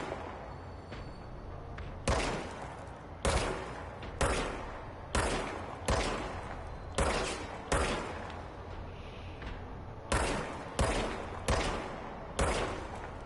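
Loud gunshots from the video game Control fire in an irregular series of about a dozen sharp cracks, each trailing a short decay, over a quiet ambient background.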